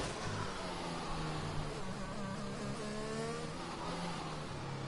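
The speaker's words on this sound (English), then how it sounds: "A few cars coming around at the moment." Race cars in a racing video game circle a track, several engines droning and whining at once with shifting pitches, steady and fairly loud throughout with no talking.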